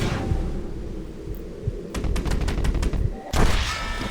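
Rapid gunfire in Red Dead Redemption, a quick burst of about half a dozen sharp shots in a row followed by a louder blast, over constant game ambience, no speech.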